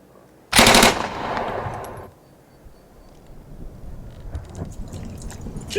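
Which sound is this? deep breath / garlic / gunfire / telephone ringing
gunfire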